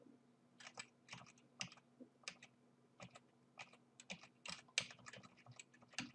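Arrow keys on a computer keyboard are tapped in quick, irregular bursts of light clicks, close and quiet, with a faint steady hum in the background.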